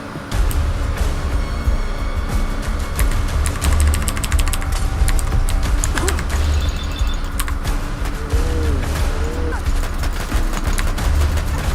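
Dense rapid gunfire in the video game Fallout London, continuous bursts of shots layered over game noise and rumble for the whole stretch, loud and busy.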